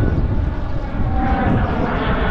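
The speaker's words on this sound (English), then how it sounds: "Oh no, it is a fighter jet." A fighter jet flies over wooded Ardennes countryside, a loud, dense rumbling roar that stays strong and continuous throughout, close and overpowering, with no talk.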